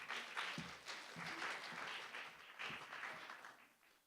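An audience at a diversity event breaks into steady applause to welcome the student group Latino Heat, a dense wash of clapping heard from a distance at low volume, with faint voices mixed in.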